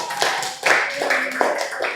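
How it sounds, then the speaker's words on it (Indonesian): Applause for a student after his self-introduction in a classroom, a short burst of quick, uneven hand clapping from a small group, close and fairly loud. "Oke, kita berikan aplaus untuk Noval."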